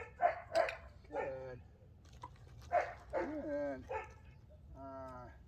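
A young trainee dog named Diana barks and whimpers in short yips and whines close by, with a person speaking praise between the sounds.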